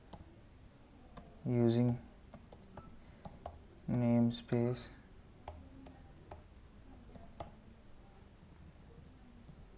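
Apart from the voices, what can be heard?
typing on a computer keyboard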